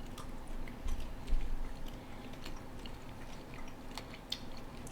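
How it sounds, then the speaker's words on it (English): Quiet, close chewing of an Israeli milk chocolate crunch bar, soft crunches and squishy mouth sounds in a loose rhythm, a slightly louder crunch early on, with no talk. "I'm trying to eat some chocolate."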